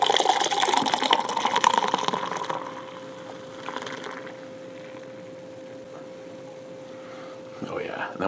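Firestone Walker Nitro Merlin Milk Stout is poured hard into a glass, a strong liquid gush for about two seconds that then settles into a faint fizzing cascade, with quiet voices at the end.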